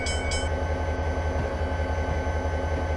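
A Norfolk Southern freight train hauling fly-ash on a coal district line in a train simulator, a steady loud rumble with rhythmic low clatter of wheels over rail joints, continuous and close from the cab.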